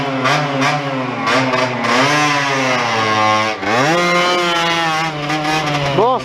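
KTM EXC-F 250 four-stroke enduro motorcycle revving loudly and close, the engine note rising and falling through throttle blips, with a brief dip mid-run before climbing again and a sharp rev at the end.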